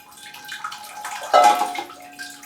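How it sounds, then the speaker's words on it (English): Water poured onto a potted Pleione orchid planted in seedling bark, a steady splashing trickle that swells into a louder gush partway through, close by with no talking. "You have to just keep pouring and pouring until it actually looks proper wet"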